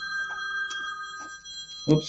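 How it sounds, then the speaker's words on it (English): A cell phone rings during an online webinar, a steady electronic tone with repeating pulses, fairly faint and close, mixed with a person's voice. "I forgot to turn off my cell phone"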